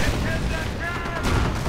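Rapid .50 caliber machine gun bursts in the Company of Heroes strategy game, a dense sustained rattle layered with other battle noise throughout, under a commentator's voice.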